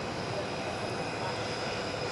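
A steady roar from the presidential plane's engines after landing, a continuous broadband rumble held at an even level throughout, with a person speaking faintly beneath it.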